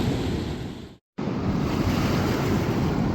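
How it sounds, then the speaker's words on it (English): Roaring whitewater of Granite Rapids on the Colorado River in the Grand Canyon, a loud, dense, continuous rush broken by a brief silent gap before resuming at full strength. "Heading in the rapids, Granite Rapids."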